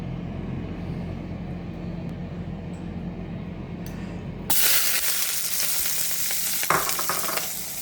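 Oil heating in a pan before steak goes in for jerk Philly cheese steak sandwiches: a quiet low rumble gives way to a loud, steady broadband sizzle partway through, with a sharp crackle near the end.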